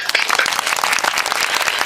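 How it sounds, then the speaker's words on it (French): A brief applause sound effect of thick, continuous clapping from a crowd, loud and steady throughout, used in a French-language podcast about podcasting in francophone Africa. "Applaudissez pour moi."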